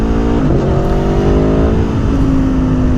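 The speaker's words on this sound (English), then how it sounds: "The engine in this is absolutely exquisite. It is a wonderful engine. It is so responsive. It sounds great." A sport motorcycle engine revving, either a BMW M1000 R or an Aprilia Tuono V4 Factory, loud and close, climbing in pitch and then holding a strong, steady high-revving tone.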